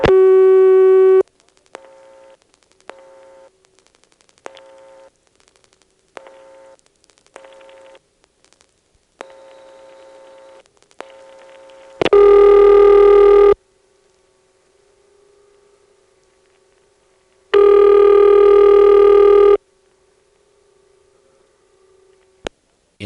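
A 1977 telephone call into a 448 number on the Ladysmith NX2 crossbar exchange: a dial tone, then a series of short clicks and tone blips during dialing and switching, a faint hum, and two long, loud ringback bursts separated by a quiet pause.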